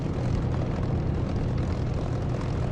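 In the DCS flight simulator video game, an aircraft's engine roars steadily and loudly for the length of the clip, a dense continuous drone with a propeller-like throb and no voices over it.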